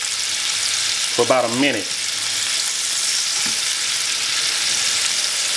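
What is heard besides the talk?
chuck roast searing in a hot pan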